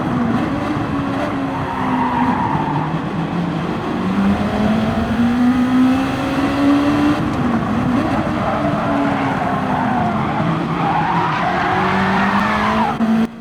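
Car-on-car contact in a Gran Turismo 7 online race replay at Fuji, one racer shunting into the back of another: steady loud engine drone with tire skidding and squealing throughout, no talking.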